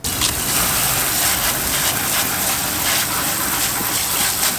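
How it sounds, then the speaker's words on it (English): A steady, loud gush of water spraying down the plastic body parts of a 2006 Subaru Forester XT in a front yard, continuous without a break. "we're actually gonna take it to the front yard and spray it down with water"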